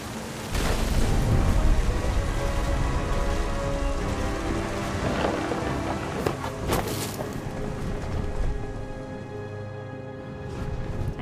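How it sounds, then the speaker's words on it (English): A thunderstorm in What Remains of Edith Finch sets steady heavy rain close by against a few sharp thunder cracks and rumbles, with no talk over it. "The thunder sounded much too close and full of angry power."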